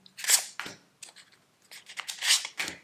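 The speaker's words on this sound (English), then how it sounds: "So if you hear noise in the background, those are people bursting firecrackers." Firecrackers bursting during Deepavali, heard as a few sharp, crackling pops spaced out over a couple of seconds, somewhat distant and moderately loud, with no talking.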